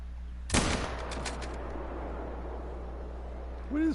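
A single sharp .243 rifle shot rings out in the hunting game Call of the Wild, followed by a fading rumble under light wind.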